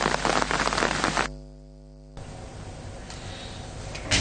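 Heavy rain falls around Kantalai in a dense, loud, broadband wash. It drops out briefly to a steady tone, then returns as a softer steady patter.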